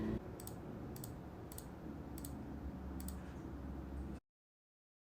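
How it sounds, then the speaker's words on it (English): Sharp, isolated computer mouse clicks sound while patient notes are charted, about five quiet taps spaced irregularly over a faint room hush before a sudden cutoff. "is usually just a bunch of clicking since a lot of the signs can be auto-populated"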